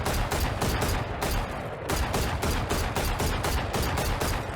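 Rapid bursts of Guardian rifle gunfire from the shooter game Valorant, loud and close, repeating steadily with a short pause partway through, no talking over it.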